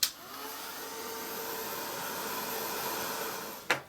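A hair dryer runs steadily at close range, blowing to dry white paint splatters on an art journal page, with a sharp click as it switches on and another as it cuts off near the end.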